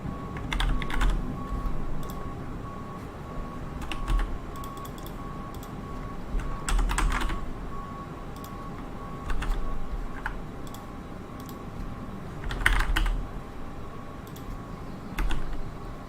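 Computer keyboard typing for flight simulator input in a Prepar3D v4.4 session, irregular bursts of quick key clicks with short pauses, close and fairly quiet over a steady low hum, no talking.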